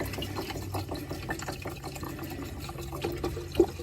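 Liquid poured out onto the ground in a steady splashing, gurgling stream during chainsaw chain sharpening work, with a few louder splashes and drips near the end.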